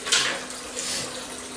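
Hot water runs from a tap into a sink for soaking a Wilkinson Sword Classic razor, a steady close splashing hiss lasting the whole moment with no voices.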